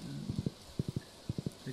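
Horse hooves clip-clop in groups of three quick steps while riding in the video game Stardew Valley, a short game-sound loop under low background noise.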